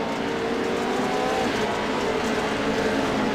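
Race cars in a heat race roaring past the start-finish line, a steady loud engine drone with no breaks.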